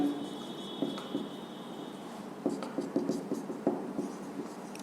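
Writing on a classroom board during a lecture, with a run of short, close scratchy strokes and taps that grow busier in the second half, alone with no talking.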